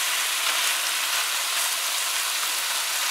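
Vegetables stir-fried in sauce over high heat give off a steady, dense sizzle that fills the whole span with no pauses and no talk.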